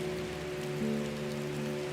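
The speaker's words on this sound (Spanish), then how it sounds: "Había empezado a llover nuevamente" Steady rain falling on a surface, an even hiss with a low tonal drone underneath, no voices, continuous through the short stretch.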